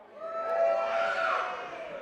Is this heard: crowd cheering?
yes